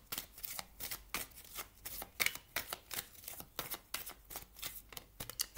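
A deck of oracle cards is shuffled close up in a steady run of soft, papery flicks and riffles, continuous and fairly quiet, with no talking over it.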